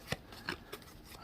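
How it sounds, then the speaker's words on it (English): Game cards being shuffled by hand in and out during solo tabletop dungeon-crawl play, heard as three quick, crisp riffling bursts spaced a short way apart and close to the mic, with no talking. "random shuffling here, in and out"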